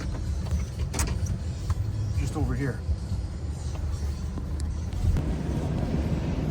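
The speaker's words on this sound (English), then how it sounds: "The little girl's gonna bring the uptown truck" A pickup truck idles and rolls up nearby outdoors, its low engine rumble steady beneath someone talking, with a brief whine partway through and some wind buffeting the microphone.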